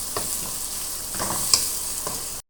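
Dried fish with raw tomato fries in a pan, a steady sizzle close by with a few scrapes and taps of a stirring utensil, then it cuts off abruptly.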